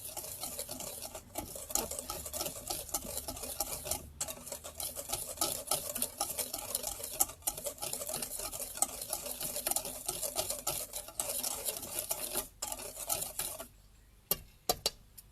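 Dry powder of baking soda, citric acid and cornstarch being stirred together in a bowl, a steady close scraping and rustling that runs continuously before a few brief pauses and taps at the end, with one short spoken word.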